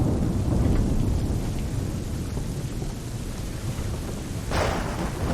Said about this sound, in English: I'd say it's high time we find some cover from this storm, Captain.